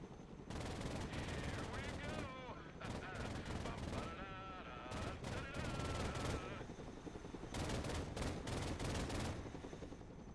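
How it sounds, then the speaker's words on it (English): Machine guns firing at targets in the video game Broken Arrow, dense sustained bursts of automatic fire under excited voices, with short gaps between volleys. "Get behind one of the machine guns, and we'll put you in range of some targets to shoot at."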